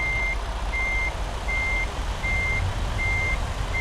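A truck reverses with a trailer in American Truck Simulator, its backup alarm beeping steadily about five times at even intervals over a low engine rumble, with no talking.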